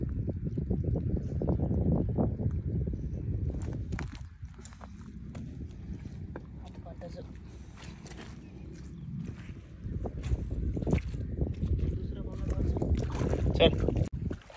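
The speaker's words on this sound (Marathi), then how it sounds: "हे बघा मावलावर जाण्यासाठी बोट आलेली आहे आपली." Fishing boat engine idling as it pulls up at Karanja jetty, a low rumbling chug that fades midway and rises again, with wind buffeting the microphone and people talking nearby.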